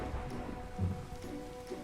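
Hail pelting down in a realistic hardcore Minecraft desert world, a dense, steady patter like heavy rain with a soft low rumble swelling briefly midway, heard alone.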